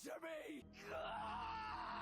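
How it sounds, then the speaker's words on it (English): A scream from an episode of the Invincible animated series: a strained, wailing cry that bends in pitch, then a sustained loud yell with rough, harsh tones. "That scream!"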